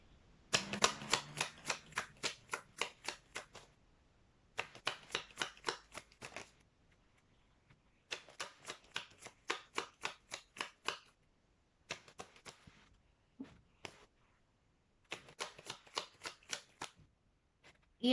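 A deck of tarot cards is riffled and shuffled in several rapid bursts of crisp flapping clicks. Each bursts for a few seconds with short pauses between, close and fairly quiet, with no talking.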